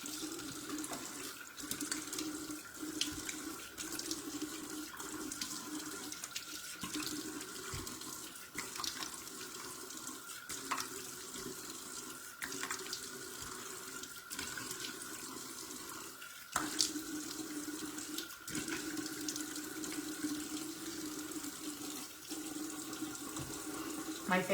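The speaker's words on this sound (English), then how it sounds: "Let me wash my face real quick," Tap water runs steadily into a sink as someone washes their face, a continuous close splashing hiss with occasional louder splashes and brief handling knocks, no talking over it.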